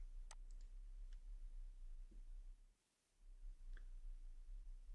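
A computer mouse clicks on a next button, a single sharp tick early on followed by a few fainter ticks, all quiet and isolated against a soft background hiss.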